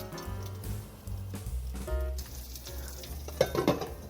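Fish and eggs fry under a lid in a covered pan, a steady close sizzle with low hum and a few louder crackling bursts near the end, no talking.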